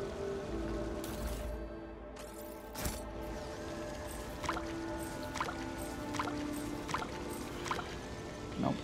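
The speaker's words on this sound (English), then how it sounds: "the coin falls into the clear water and sinks to the bottom" A coin tossed into clear water in a video game, heard as a splash and soft dripping, watery plinks repeating over an ambient background, with no talking.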